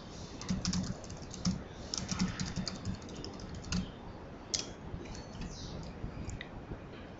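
Someone types on a computer keyboard in a steady, quiet run of soft clicking keystrokes that goes on for several seconds, with small pauses and a few sharper taps, and no voices.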